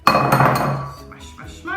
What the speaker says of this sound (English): Crack my eggs and put them in a bowl as well